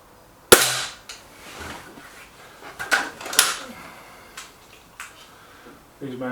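A sharp, loud crack of an RX20 air rifle firing a .22 pellet, followed by a few softer clicks and knocks and a brief rattle at the end.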